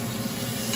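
Broth poured into a hot pan of softened carnitas ingredients, giving a steady, loud, even sizzle and hiss that holds without a break.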